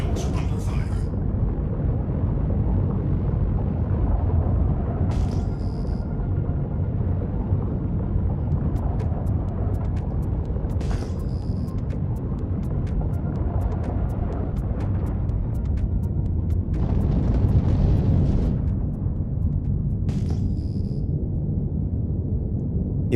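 Weapons fire and explosions batter ship shields in the Star Citizen video game, a low rumbling roar broken by sharp bursts and bright zaps at intervals, under a speaking voice.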